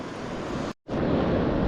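Ocean surf washing onto a beach on the Olympic coast's North Coast Trail, a loud, broad roar close by that cuts out briefly and then returns at full strength.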